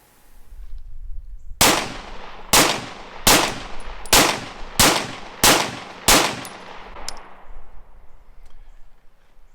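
Remington R51 pistol firing a string of seven sharp, evenly spaced shots outdoors, each with a ringing decay, ending abruptly in a malfunction after the last shot, loud and close with no talk.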